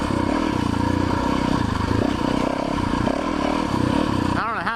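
A 450 enduro motorcycle engine running close by with a rough, clattering idle and light throttle blips, loud and continuous, with a voice speaking over it.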